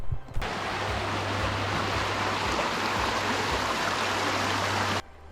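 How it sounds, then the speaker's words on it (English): A stream flowing on Dartmoor, a close, steady broadband rush of water that holds constant for about five seconds before cutting off, with no voices. "Heading north along the stream."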